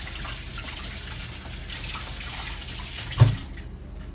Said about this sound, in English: So I'm going to wash my hands really fast while the oven is preheating.